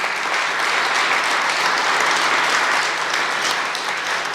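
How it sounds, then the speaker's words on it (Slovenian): An audience applauds award winner Zlatka Strgar at a formal municipal awards ceremony in Ravne na Koroškem, with steady, dense clapping filling the room at an even level throughout. "Zaploskajmo dobitnici Zlatki Strgar."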